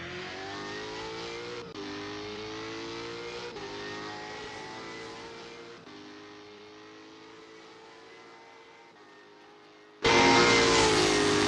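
V8 Supercar engines roar at Simmons Plains in the racing game Assetto Corsa, a steady high-pitched drone with shifting revs and gear changes that fades slightly before a sudden louder, brighter surge near the end.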